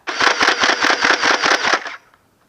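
A modified Elite Stampede-style foam dart blaster fires full-auto from a clip magazine, making a loud rapid burst of about a dozen mechanical thumps and whirring for two seconds, then stopping abruptly.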